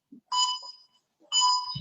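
Two electronic beeps from a workout interval timer, each a clear tonal chime lasting about half a second, separated by a brief silence, loud and close with nothing else around.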